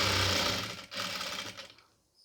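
A sewing machine runs steadily while stitching the folded hem of a pleated nightie, a close, dense whirring that pauses briefly midway, then resumes before slowing and fading out.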